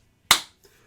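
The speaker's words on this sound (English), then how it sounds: "she just claps her hands together and then a rod appears between them" A single sharp hand clap rings out close and crisp, followed by a much fainter soft tap a moment later in an otherwise quiet room.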